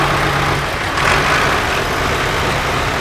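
A John Deere 6400 tractor engine runs at a steady idle at a steam rally, a continuous broadband diesel rumble with a low hum, fairly loud and close, no talk.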